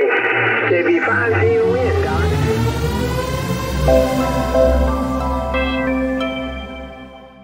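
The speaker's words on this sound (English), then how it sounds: "you don't have to listen to that constant static" A ham radio receiver hisses with constant static, whistling heterodyne tones sliding through the noise while a voice briefly reads out a call sign over the crackle.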